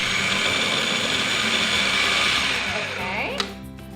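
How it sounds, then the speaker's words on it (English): A food processor pulses cold butter into flour for blueberry buttermilk scones, a loud steady whirring motor that runs throughout before slowing and cutting off near the end. "I'm gonna put it in the processor. Now we're gonna go ahead and pulse the butter."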